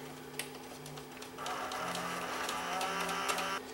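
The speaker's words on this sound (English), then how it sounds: "We'll just try and eject the tape here. I guess it's going to want to load first." A Mitsubishi HSU760 S-VHS VCR with a worn-out belt strains to load a tape, giving a steady mechanical whirring with soft clicks that grows louder partway through, then cuts off.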